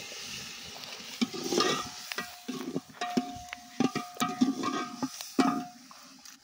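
Chicken frying with masala in a pan at an outdoor family picnic, a steady sizzle broken by repeated scraping stirs of a spatula against the metal, close up, with no talk.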